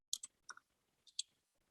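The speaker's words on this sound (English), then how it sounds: "So give me a second while I type these in." Quiet, close keyboard typing: a few sharp, separate key clicks in two short bursts with pauses between them and no voices.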